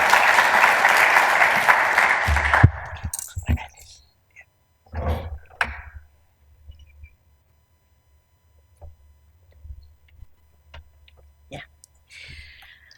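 An audience claps to welcome a speaker to a nursing research history talk at the Royal Brisbane hospital, a dense burst of applause lasting about three seconds before fading into sparse clicks and faint shuffling.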